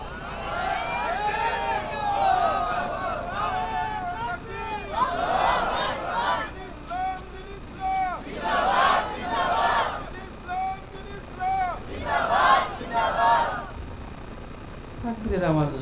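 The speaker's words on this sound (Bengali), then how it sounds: "তাকবীরের আওয়াজ জোরে হইল না" A crowd at an Islamic religious gathering chants the takbir slogan in several loud, distant bursts, each call and group response rising and falling, with a preacher's voice speaking between them.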